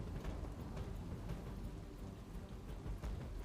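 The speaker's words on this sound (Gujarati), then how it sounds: "શહેરમાં વહેલી સવારથી જ વરસાદ છે તે વરસવાની શરૂઆત થઈ ચૂકી છે" Heavy rain pours steadily over Ahmedabad city in the early morning, a dense, continuous hiss of downpour close by with no voices over it.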